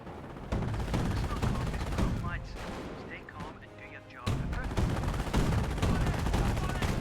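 Dense, sustained gunfire from the Company of Heroes 1 World War II strategy game, in a Panzer Elite versus British match, rattles on almost nonstop, dipping briefly before surging back loud.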